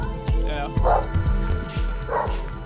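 Dogs at a fighting site in South Africa, including a black pit bull, give repeated barks and yips with short gaps between them over steady background noise.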